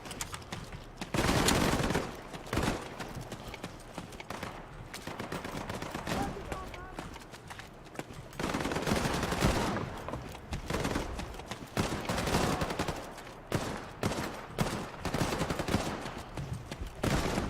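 Rapid bursts of captured-weapon gunfire in the shooter game Battalion 1944, with loud volleys of repeated shots and short pauses between them, and brief game noise in the gaps.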